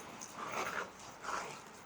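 A recording of dogs fighting, played back through a soundboard outdoors on a winter night, gives faint, distant-sounding whimpers and yips in two short bursts.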